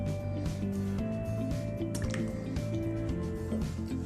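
Olive oil is poured or drizzled in a quiet kitchen, giving soft glugging and dripping sounds that are masked by constant tonal background music.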